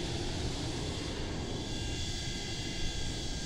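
Boeing 727 tri-jet in Microsoft Flight Simulator accelerating down the runway on takeoff, a steady broadband engine roar with a faint high whine, constant and fairly loud throughout with no talk.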